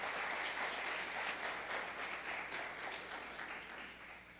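A church congregation applauds together in a dense, steady wash of clapping that slowly fades toward the end.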